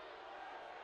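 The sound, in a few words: hockey crowd reacting displeased to penalty call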